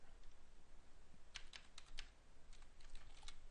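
Quiet typing on a computer keyboard, a handful of irregular crisp key taps spread across the stretch over a soft background hiss.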